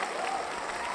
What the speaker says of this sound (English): The crowd is going wild for you on that one